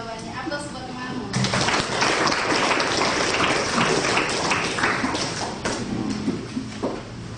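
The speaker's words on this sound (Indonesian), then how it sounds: "Aplaus buat temanmu." Classmates applaud a student in a high school classroom, with a burst of clapping mixed with a teacher's speech running over it for several seconds.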